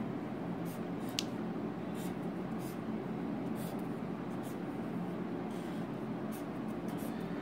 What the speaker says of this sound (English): let us firstly draw the diagram of a cube